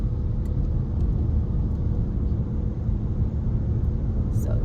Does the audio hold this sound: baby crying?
no